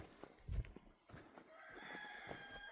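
Chickens on a homestead at feeding time, a rooster crowing and scattered clucks, faint and somewhat distant, with a brief thump and light rustling outdoors.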